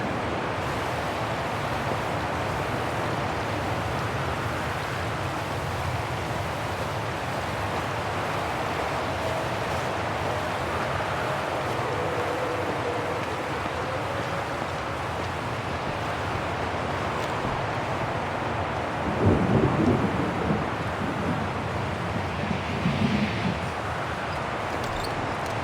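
Storm in Syberia: The World Before: a steady, loud wash of wind and rain-like noise that continues throughout, with a few heavier gusts or rumbles near the end.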